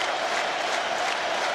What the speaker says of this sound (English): Crowd chanting Pedro.